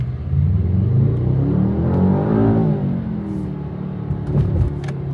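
A sports car's engine in sports mode drones low and loud nearby, rising in a smooth revving sweep as it accelerates, then easing back to a steady rumble with a few light clicks near the end.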